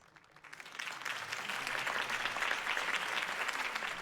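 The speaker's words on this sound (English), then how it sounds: "If only Mr. Wayne, my campaign's largest backer, could have heard that applause" Crowd applause at a campaign rally for Harvey Dent in the Batman Telltale video game swells in after a brief quiet start and holds as a dense, sustained clapping roar.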